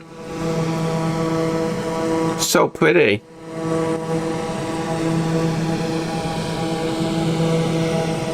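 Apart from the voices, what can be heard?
Piaggio P.180 Avanti II aircraft in video game Microsoft Flight Simulator 2024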